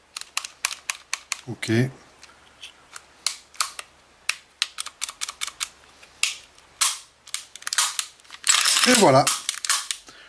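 A CZ P07 pistol is reassembled by hand, with a run of sharp metallic clicks and snaps as the slide stop is fitted, close and crisp, with a brief spoken remark near the end.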